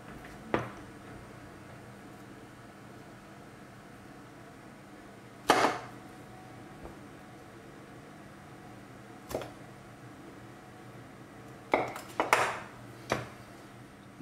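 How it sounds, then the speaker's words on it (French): Knife scraping and tapping as the crust is cut away from a small Livarot cheese, a few sharp isolated clinks against a plate or board with quiet gaps between them. "Donc on va enlever la croûte."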